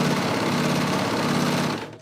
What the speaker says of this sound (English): then I'm gonna stitch up the top part of the sleeve